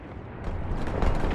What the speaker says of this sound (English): this is where the turrets are wanting to shoot